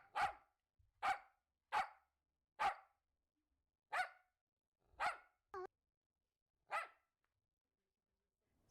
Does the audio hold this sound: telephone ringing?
no